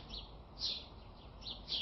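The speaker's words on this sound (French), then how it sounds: "Les oiseaux chantent" Morning birds chirp in bright, short high bursts from a cartoon scene, three or four clear calls over a quiet background with no talking.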